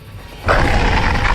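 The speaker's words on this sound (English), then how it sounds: "a werewolf attacks and bites Nick" A werewolf lunges and bites a man in a forest in a horror video game, a sudden loud snarling roar that bursts in after a quiet moment and keeps growling harshly.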